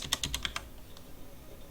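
A name typed on a computer keyboard: a quick burst of about six crisp key clicks, then a couple of lighter, scattered taps, close and fairly quiet.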